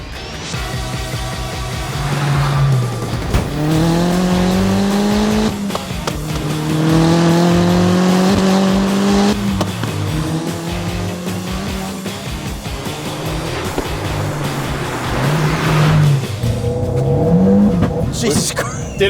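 A 300hp VW GTI accelerates hard on a road drive, its engine revving up through repeated rising sweeps with pauses for gear changes, loud and close from inside the car, while people talk over it.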